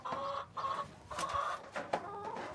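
A laying hen in a roll-out nesting box, getting ready to lay an egg, gives a run of close, steady clucks and drawn-out murmuring calls, with no talking over them.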